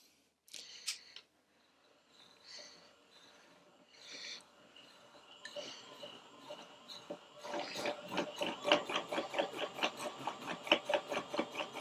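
An electric yarn ball winder spins yarn off a skein, starting with scattered clicks and whirs, then settling into a fast, regular rhythmic ticking whir that grows louder toward the end.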